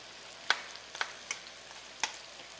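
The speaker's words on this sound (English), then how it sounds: "So I'm just going to kind of roll these over with a fork." Asparagus spears sizzling in a pan as a fork rolls them over, heard as a low steady frying hiss broken by four sharp clicks of the fork against the spears, each clearly heard with no talking.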